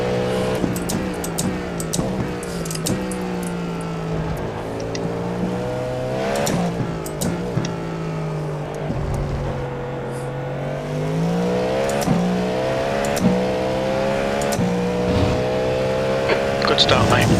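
Race cars in a video game race scream through rising and falling gear changes, a continuous, loud engine whine with sharp shifts and clicks, under occasional voices.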